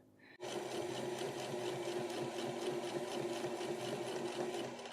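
A sewing machine runs steadily while top stitching a shirt, a close, continuous mechanical whir with a fast regular needle rhythm that starts abruptly after a brief quiet moment and carries on to the end.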